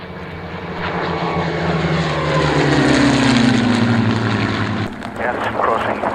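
A propeller aircraft at Duxford airfield, a Bearcat, taxiing on the hard taxiway: a loud, close, continuous engine drone with a slowly shifting pitch that dips briefly near the end.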